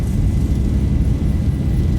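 An airliner's engines roar in a flight simulator video game as it rolls down the runway for takeoff, a loud, steady, broadband rumble with no voices.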